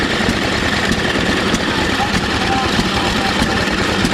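An antique gasoline engine-powered grinder grinding corn at an outdoor antique tractor show, a steady chugging engine rumble with rhythmic knocking, close and loud, with crowd chatter and voices mixed in.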